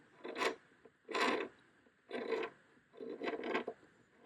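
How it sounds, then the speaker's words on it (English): A blade scrapes paint off the fine edge of a guitar body in four or five separate rasping strokes, each a short gritty scratch with brief pauses between, heard close and fairly quiet. "tilt it like this so that I can scrape that fine edge that's on there"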